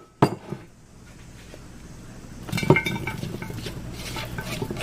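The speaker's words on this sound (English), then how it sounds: "So now I'm gonna put it in my greased casserole dish here." Homemade bread stuffing is spooned into a greased casserole dish: a sharp clank of utensil on dish, a brief lull, then a run of scraping, clinking and soft thuds as the stuffing is pushed and knocked out, close and clear.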